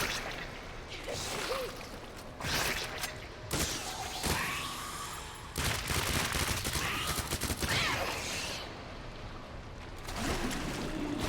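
Gunfire in the PC version of Resident Evil 2 Remake, in several loud sharp bursts spread through the clip, mixed with splashing and whooshing game sounds and no talk.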